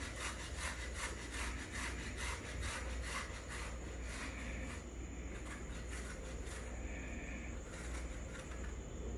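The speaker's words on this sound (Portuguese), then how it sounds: "então você vai ouvir ela ao ralar" A slightly soft but firm potato rubbed by hand against a grater, with steady rhythmic rasping strokes repeating throughout, close and continuous.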